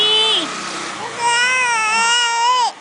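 A three-month-old baby cries loudly and close, two drawn-out wailing bursts with a brief pause between them.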